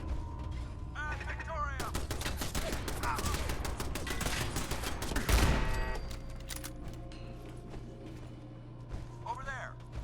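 Turret gunfire in the Fallout 4 video game, a rapid clattering burst lasting a few seconds amid mechanical whirring, with game characters shouting over it and quieter machinery afterward.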